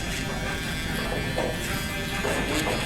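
An electric shaver buzzes steadily and close up as it clears leftover stubble along a haircut lineup during a burst taper fade, a continuous even drone with no pauses.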